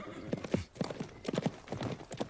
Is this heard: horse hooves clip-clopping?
yes